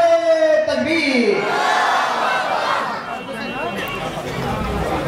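A crowd at a Bangladeshi religious gathering roars a takbir chant of Allahu Akbar together, a loud massed shout rising and then sustained as cheering babble.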